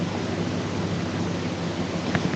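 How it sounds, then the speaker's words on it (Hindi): Steady rain pours down in bad weather with a low, continuous rumble of thunder beneath it, a dense wash of noise that never lets up, plus one faint crackle near the end. "आपके यहाँ भी बारिश हो रही है?"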